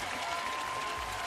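Crowd applause at a BMX flatland freestyle World Cup men's final in Montpellier, France, a dense steady roar of clapping and cheering that holds loud and even from start to finish, with no voices standing out.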